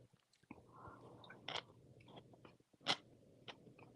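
Someone eats a watermelon sandwich, close crisp bites and wet chewing in irregular bursts with brief pauses, fairly quiet overall.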